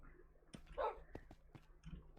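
Tamed wolves in Minecraft give a short burst of yips and barks amid soft clicks and game noise, fairly faint and close.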